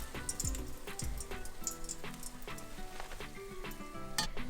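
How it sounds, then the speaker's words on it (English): Aubergine slices fry in hot oil with a steady close crackling sizzle, broken by a few clinks and knocks of utensils against the pan, with no talking. "Then continue adding more aubergine and fry it."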